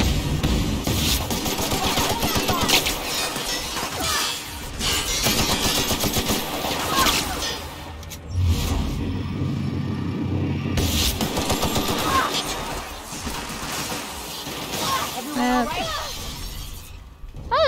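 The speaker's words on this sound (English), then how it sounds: "We're shooting our way out on the ship" Sustained gunfire from the ship escape in The Outer Worlds video game, with rapid bursts and shattering impacts filling most of the stretch, a short lull partway through, and a person talking over the shooting.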